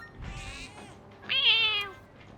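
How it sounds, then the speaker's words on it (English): A weak cat in the video game Persona 3 Reload gives two small, thin mews in quick succession, the second higher and brighter, moderately close with a quiet game soundtrack underneath. "you feed this cat, this weak cat right here, with the small weak mew"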